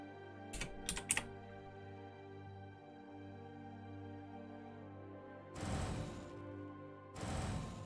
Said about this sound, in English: just to demonstrate the power of an autoclicker